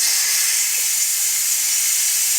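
Steam vents in a steady, loud hiss from a pressure cooker of freshly cooked rice for red beans and rice, constant throughout with no talking.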